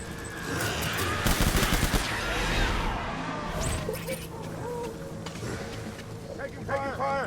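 Gunfire in the Death Stranding video game: loud bursts of shots and crashes with a busy game soundscape, and a voice talking over the action throughout.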